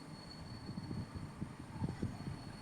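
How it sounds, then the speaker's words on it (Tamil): A goods train rolls along the railway with a low, rhythmic rumble and repeated wheel clacks, fairly quiet and somewhat distant, with no voices. "அடுத்த ட்ரெயின் ஆப்போசிட்டில் கூட்ஸ் வருது"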